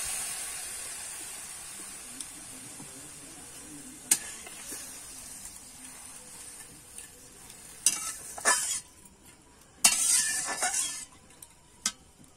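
A pan hisses and sizzles on the stove as milk goes in and is stirred, with scattered scrapes and clinks of a spoon against the pan, louder near the end.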